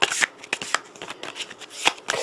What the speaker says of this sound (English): let's just make sure we shuffle really good